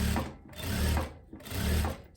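Domestic sewing machine running in steady bursts of stitching along a kaftan neckline, a close, continuous mechanical whir that pauses briefly twice.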